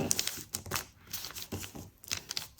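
Paper crinkles and rustles in several quick, close bursts as it is folded into a paper bag, with no one talking.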